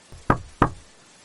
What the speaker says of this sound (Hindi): रात के लगभग 1 बजे आरव सोने ही वाला था कि दरवाजे पर दस्तक हुई।